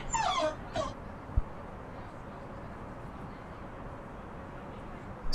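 A dog gives a few short high whimpers near the start, then falls quiet, with a faint thump and low room hum behind.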